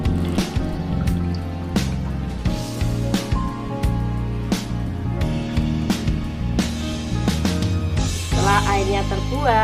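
Soaking water drained from kangkung (water spinach) seeds through a strainer, making continuous drips and splashy trickling close by over steady background music.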